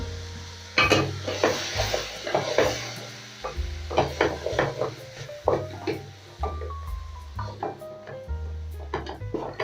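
Cabbage cooks in a pan with a low, quiet sizzle, broken by repeated clinks and scrapes of a utensil stirring against the cookware.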